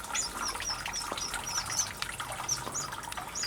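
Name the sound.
Mozambique serin singing in an aviary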